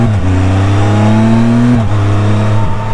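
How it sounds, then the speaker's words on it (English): A Can-Am Spyder F3 Limited three-wheeler accelerating hard, its engine droning loudly and steadily through one long gear before a quick shift drops the pitch and it pulls again, recorded close on board. "We're going to do one last acceleration here for today's ride and review."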